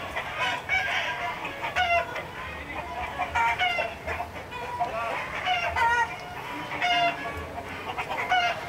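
Roosters crow and cluck repeatedly at an illegal cockfight held in a house in Asahan, North Sumatra, with several birds calling over a steady background murmur.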